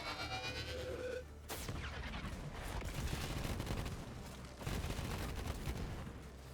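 Video game gunfire crackles in dense bursts of rapid shots, fairly loud and continuous, with a brief whooshing sweep early on and sustained rattling volleys throughout.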